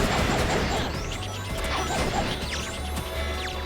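Glass shattering in the video game Sonic P-06, several loud crashing smashes and whooshes packed into a few seconds over dense game music and effects.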